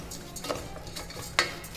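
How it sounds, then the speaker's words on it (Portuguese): Rice fries in a pan that is just heating up, with soft sizzling under repeated scraping and clinking of a utensil stirring against the metal, close and fairly quiet. "vamos colocar ele aqui na panela, que já está começando a ficar quente, e vamos dar uma fritada no arroz"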